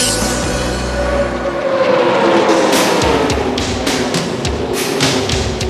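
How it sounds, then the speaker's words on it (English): Loud NASCAR Winston Cup race car engines roar at Lowe's Motor Speedway, a dense continuous snarl with cars whooshing past close by in quick succession, no talk. "the 43 Winston Cup engines finally roared to life on Monday at the Lowe's Motor Speedway"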